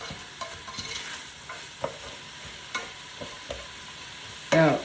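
Vegetables for potato soup sizzle and crackle steadily in a pan, with occasional louder stirring clicks and scrapes from a utensil, ending in a brief louder clatter.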